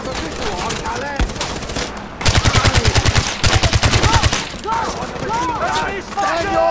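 Bursts of automatic gunfire from a machine gun nest in the video game Far Cry 4, loud rapid volleys in two long strings with a shouted voice and game dialogue around them.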